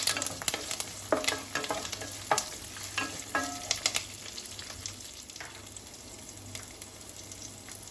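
Long-sliced onions sizzling in hot oil in a pan for sambar while a spoon stirs them, scraping and clinking over a steady fry hiss, with stirring strokes busiest early and easing off later.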